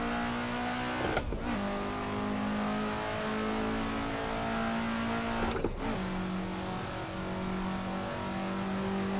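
An Alfa Romeo GTA race car engine in a racing video game drones at a steady pitch, then cuts sharply twice for gear changes, each followed by a brief jump in pitch before it settles back into the sustained whine.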